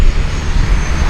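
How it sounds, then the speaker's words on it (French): A propeller airplane roars loud and close as it passes just a few metres overhead at Saint-Barth airport, a dense, continuous engine blast with no voices. "les avions passent juste au-dessus, mais genre vraiment à quelques mètres au-dessus"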